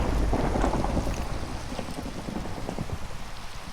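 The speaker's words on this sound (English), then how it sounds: "We're just gonna live through the thunderstorm." A Minecraft thunderstorm, with loud steady rain pouring over a deep rolling rumble of thunder that fills the whole short stretch and fades slightly toward the end, with nobody speaking.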